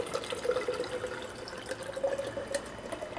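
Liquid poured at chest level right beside the microphone, a steady close trickling splash with a faint gurgling tone, fairly loud and alone.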